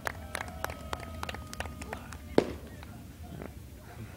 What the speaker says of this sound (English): tonight, fireworks are going off